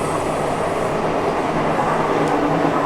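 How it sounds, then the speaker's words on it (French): RER commuter train running past near a station, a steady, dense rumble of rolling wheels and car noise that holds at an even level throughout, with no voices. "il y a le RER qui circule"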